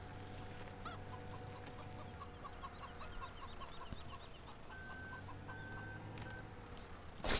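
Chickens cluck and squawk steadily in a henhouse in Farming Simulator 17, several birds overlapping at moderate distance over a low constant hum, with no talk.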